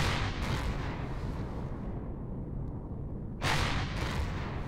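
Weapon fire aimed at enemy turrets in the space game Empyrion Galactic Survival, a dense continuous roar of booming shots with a brief lull and then another loud burst, no voices.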